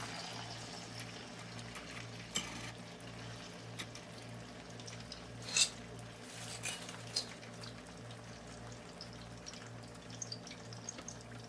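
Chicken pieces for patakha chicken frying in hot oil in a pot, a steady continuous sizzle with a low rhythmic hum beneath and occasional utensil clinks, no talking.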